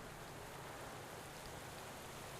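Steady, even rain from the cycling video game Pro Cycling Manager 2020, a constant hiss of drops on surfaces with no break or change, filling the whole stretch without voices.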